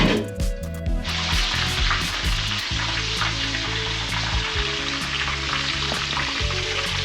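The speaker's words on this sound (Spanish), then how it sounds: "Esto sería mejor en una freidora, pero en nuestro caso no tenemos y la tenemos que freír en la sartén." Flamenquín stuffed with tuna and piquillo peppers frying in a pan of oil, a loud continuous sizzle and crackle close by, with a few utensil knocks at the start.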